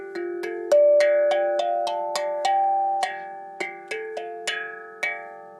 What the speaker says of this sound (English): It's a Zenko drum, made by the same company as this, the handpan here.